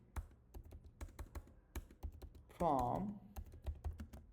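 SQL code typed on a computer keyboard: a quiet, irregular run of close key clicks, with a short burst of brief speech midway.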